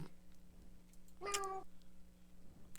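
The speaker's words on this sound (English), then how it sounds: "That is a Norwegian forest cat." A Norwegian forest cat gives a single short meow partway through, mid-loud over a quiet room with faint background hum.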